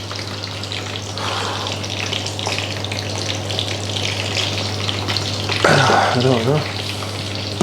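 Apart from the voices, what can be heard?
twice-cooked chips frying in oil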